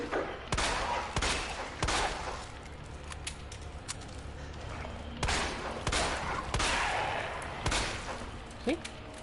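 Gunfire in Resident Evil 2 as Leon fights on Hardcore difficulty: sharp single shots fired at uneven intervals, around seven cracks over a low ambient background.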